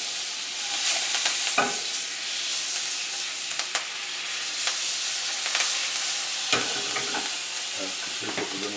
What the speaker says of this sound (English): I'm going to turn the beef over.